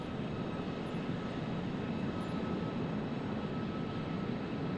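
PMDG 737-800 jet engines in Microsoft Flight Simulator produce a constant, even broadband roar with a low rumble and faint tonal whine, steady throughout with no voices.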